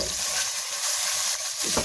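Cumin seeds frying in about two tablespoons of hot ghee for a chicken curry, a steady bright sizzle that stays constant and close throughout.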